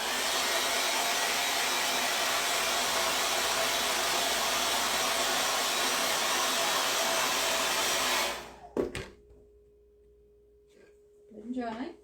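A hair dryer blows steadily and loud at close range on a chalk-finish craft project for about eight seconds, then cuts off into quiet broken by brief handling noises and a short voice.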